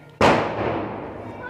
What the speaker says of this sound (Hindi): तो उसके उपलक्ष्य में ये पटाखे लोग चला रहे हैं